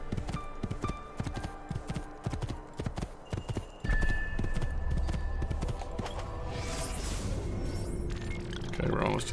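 A horse gallops through mountains in Assassin's Creed II, its hooves clip-clopping in a fast steady rhythm, then shifting into a heavier rumbling ride with a whinny-like cry, amid game ambience.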